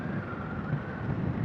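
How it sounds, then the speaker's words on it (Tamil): Strong wind buffets the microphone at a beach, a steady loud rushing roar with low rumble and no clear breaks. "நம்ம காற்று ரொம்ப அடிக்குதுப்பா"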